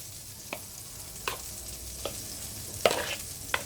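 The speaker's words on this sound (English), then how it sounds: "Yep, so that's browning up nicely." Seasoned, coated beef browning in a pan under a steady frying hiss, with a spoon stirring it in scattered scrapes and knocks, close by.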